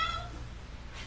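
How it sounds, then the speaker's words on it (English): A cat meow sound effect plays as a time-up signal at a comedy show, a short bright mewing cry at the start that fades into room noise. "you know your 60 seconds is up when you hear the sound of a kitty"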